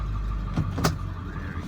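A 2001 Ford F250 truck idles and creeps backward in reverse in four-wheel-drive low range, a steady low engine rumble with a couple of brief clunks and a rattle partway through.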